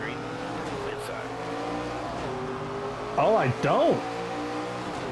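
Race cars accelerating at Bristol in the NASCAR 25 video game, engines droning and rising in pitch through gear shifts, with two sharp revving bursts near the end and a brief spoken remark over them.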